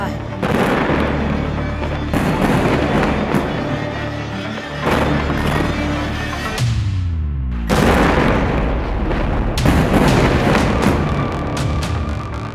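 Bombs explode during the Israel–Gaza war, heavy booms and crackling blasts arriving in repeated bursts about every two seconds, loud and reverberant, with a deep falling rumble in the middle.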